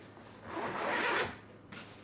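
One close zipper pull on a backpack's inner compartment, a quick rasping zip lasting about a second in an otherwise quiet moment.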